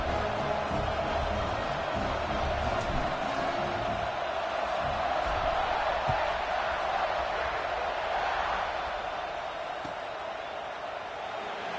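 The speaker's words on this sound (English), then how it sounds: "this crowd is buzzing after that last score" Football stadium crowd buzzing after a score, a steady dense roar of many voices filling the whole stretch, loud and continuous with no single voice standing out, easing slightly toward the end.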